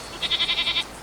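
A goat bleats in a quick run of six wavering pulses, moderately close, over a steady background hiss.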